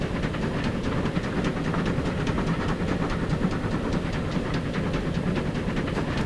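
A train labours up a steep gradient in Transport Fever 2. A loud, continuous rumble and hiss carries a rapid rhythmic chuffing and clatter, steady and close throughout, with no talking.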